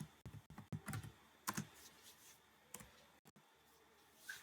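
Typing a command on a computer keyboard while setting up a .NET Core application, quick irregular clusters of crisp key clicks with short pauses between, close and fairly quiet.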